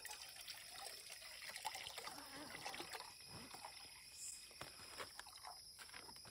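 Water from a 16.9 ounce bottle trickles and dribbles into a container outdoors at a camp, a faint, continuous pouring sound heard close by.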